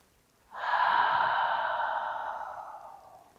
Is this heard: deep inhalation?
yes